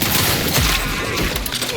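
A grenade blows up in The Outer Worlds 2: a loud, close burst with crackling debris that rattles on for under two seconds.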